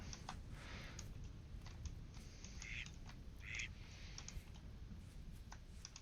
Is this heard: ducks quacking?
yes